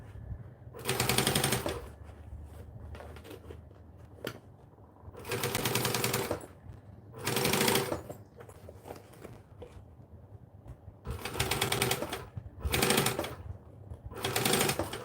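A sewing machine stitches fabric in several short bursts of rapid, rattling needle clatter, separated by quieter pauses with low handling sounds.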